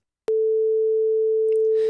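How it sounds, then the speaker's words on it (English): A steady pure sine test tone from Ableton Live 10 starts abruptly and holds loud and unwavering, with a brief faint click and hiss near the end. "If you hear that sine wave,"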